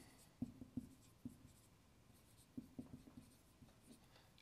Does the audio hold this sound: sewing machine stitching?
no